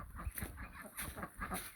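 A chicken clucks repeatedly out in a garden, with a string of close, irregular clucks and squawks over steady outdoor background noise.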